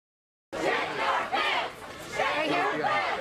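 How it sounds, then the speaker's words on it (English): A crowd of college students yelling and chanting in unison, loud, rhythmic bursts of many voices that swell and dip, starting suddenly after a short silence. "Actually, they are yelling shit your pants."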